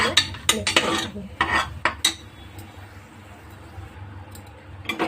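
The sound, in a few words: stirring ground spices into a cooking pot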